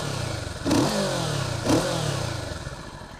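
A Kawasaki Z650 or Yamaha MT-07 motorcycle on its stock exhaust gives two quick rising revs from a low, deep idle, close and clear, with no talk.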